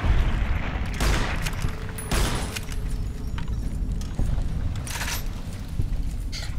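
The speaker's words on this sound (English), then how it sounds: "Three shots for 2 radical roaches" Gunshots fired at radroaches in Fallout New Vegas, several loud sharp reports spaced irregularly over a noisy in-game background.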